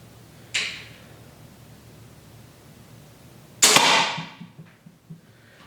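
A cheap $16 pistol crossbow fires twice, each shot a sharp snap and thwack, the first lighter and the second louder with a brief rattling tail, separated by quiet.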